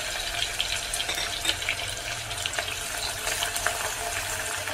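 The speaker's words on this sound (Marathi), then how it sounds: "गोल्डन ब्राऊन होईपर्यंत आपल्याला हा कांदा भाजून घ्यायचा आहे." Finely chopped onion fries in hot oil, giving a dense, steady crackling sizzle with scattered pops, close up and continuous, for a spicy Kolhapuri misal.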